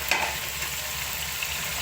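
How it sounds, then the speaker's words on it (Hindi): Dal lentils fry in hot oil over a high flame in a Nimko snack preparation, giving a steady, close, broadband sizzle with a brief stirring scrape near the start. "हाफ इसमें हम फ्राई करेंगे क्योंकि ये हमारी दाल ज़्यादा है"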